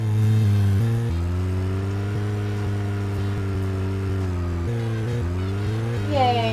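A car drives in the video game Deadly Premonition, its engine a steady mid-pitched drone that shifts pitch between gears, with people talking over it.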